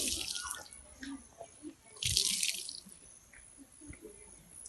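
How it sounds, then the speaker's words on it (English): A washed skirt wrung out by hand, water spattering and dripping in bursts with one louder splashing gush partway through, close by and with no talking over it. "After squeezing, I put it into the rinsing water and then I start rinsing it."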